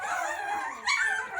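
Several young Boxer puppies in a whelping box at bedtime whine, yip and whimper continuously in a loud, close, overlapping chorus, with one sharper cry rising partway through.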